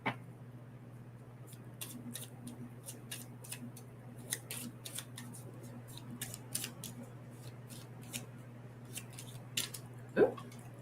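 A tarot card being flipped over during an oracle reading gives a string of light, crisp snaps and flicks at close range, scattered through the clip over a steady low hum, with a slightly louder flick near the end.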